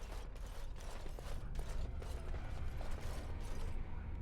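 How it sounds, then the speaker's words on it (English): A door opens in Dragon Age Origins with a close mechanical creaking and ratcheting grind that runs steadily for several seconds. "Door."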